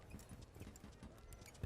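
Horse hooves clip-clopping in a quick, steady rhythm as the animal pulls a tanga cart, faint and somewhat distant under a busy background.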